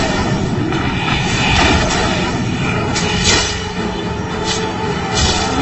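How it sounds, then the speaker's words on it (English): A heavy attack in the Shadowborn video game lands as a loud, sustained crashing barrage of booming impacts, with a few sharper hits standing out near the middle and toward the end. "that was the heavy attack"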